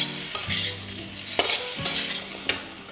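Chicken pulao with curry leaf masala is stirred in a pan, giving about four distinct scraping strokes with a soft sizzle underneath, close and fairly loud.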